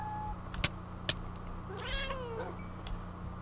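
A Minecraft cat lets out one rising and falling meow, clear and near, set between a couple of sharp clicks and a low steady game hum.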